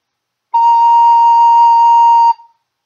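Recorder playing one long steady B flat, a clear pure tone held for about two seconds alone before fading out.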